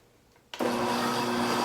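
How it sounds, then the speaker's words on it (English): Blender switching on at about half a second and running steadily at high speed, whipping an avocado facial scrub, a loud continuous motor whir with no talking. "We can get to whipping in the blender."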